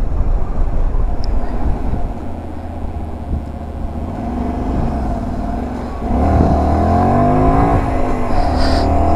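A Honda Varadero 125 motorcycle rumbles steadily along small country roads in Alsace, its engine droning continuously with wind noise, then the pitch climbs as the rider accelerates near the end.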